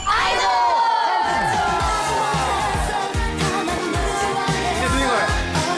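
A studio audience and hosts shout a closing chant together at the end of a K-pop variety show, a loud burst of voices blending into cheering and whoops that holds steady throughout.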